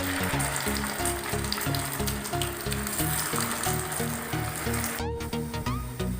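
Soya chunk cutlets (Nutrela) fry in hot oil in a flat frying pan, giving a steady, dense sizzle with bubbling crackle throughout and a brief clink of the utensil near the end; no one speaks.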